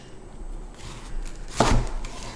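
A knife chops purple wombok cabbage on a board: a quiet lead-in, then one crisp, close, sharp cut near the end, followed by faint handling noise.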